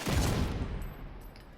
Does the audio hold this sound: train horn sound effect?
no